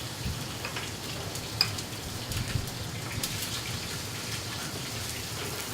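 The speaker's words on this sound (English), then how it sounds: "In another pan, with a small butter warmer, I'm going to add a little bit of olive oil and gently glaze these raw fennel batons" Raw fennel batons glaze gently in olive oil in a small butter warmer, giving a steady soft sizzle like light rain with faint crackles throughout, close and even.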